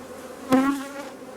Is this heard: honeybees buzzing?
yes